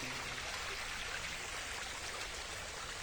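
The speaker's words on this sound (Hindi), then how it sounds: "इसी के साथ साथ पानी का बहाव भी जो है वो आप देख सकते हैं" Water flows steadily beside a ropeway trolley track at Jogindernagar, a continuous broadband rushing wash with no breaks and no voices.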